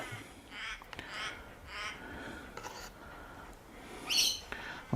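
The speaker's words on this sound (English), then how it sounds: "With all my crow mates, if you can hear them." Crows caw outdoors in several scattered calls of varying distance, one louder harsh caw near the end, over a soft ambient background.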